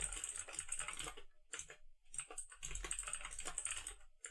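Rapid, irregular clatter of fingers typing on a computer keyboard, close and clear, with a brief pause midway before the keystrokes resume.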